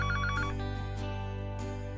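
A phone rings in the game Sileo: Tales of a New Dawn, a short electronic trill repeating a few times over a steady low background hum, with no voices.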